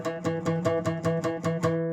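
Fingerstyle acoustic guitar, the note on the D string's second fret plucked repeatedly in an even, quick rhythm, close and moderately soft, ringing alone.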